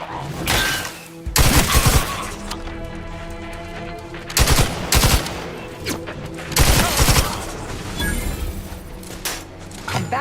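Rapid bursts of combat gunfire in The Outer Worlds 2, loud volleys firing in several clusters with brief pauses between them and scattered sharp impacts.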